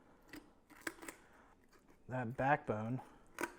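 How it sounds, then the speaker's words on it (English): Kitchen shears snip along the backbone of a Thanksgiving turkey in a series of sharp, close cuts, with someone talking between and over the snips. "Kitchen shears are great."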